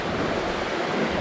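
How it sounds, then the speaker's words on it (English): A little river flowing beside a hiking trail makes a steady, broadband rushing wash that stays even and fairly loud for the whole short stretch, with no talk. "walking along the little river now"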